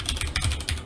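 Quick keystrokes on a computer keyboard as a MySQL command is typed at the command prompt, a short close burst of clicky taps with no voice.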